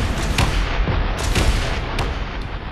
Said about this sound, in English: we blew up the reactor on the other side